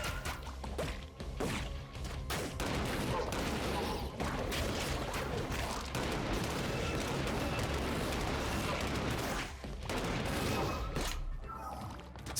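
Rapid weapon gunfire in the video game ScourgeBringer, a dense barrage of sharp shots and impacts firing almost continuously, with occasional brief gaps and bursts of crashes and whooshes, loud and busy throughout.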